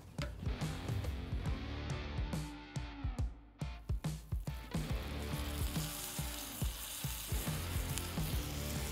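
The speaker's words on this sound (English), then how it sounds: "we want to start to heat up our ironclad pan with some garlic butter and some rosemary" Garlic butter and rosemary sizzle steadily in a hot cast-iron pan, a dense continuous crackle with scattered sharp pops and spits throughout, close and fairly loud, with no voices.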